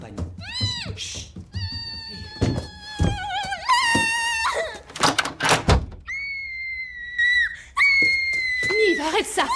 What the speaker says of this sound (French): Arrête de crier!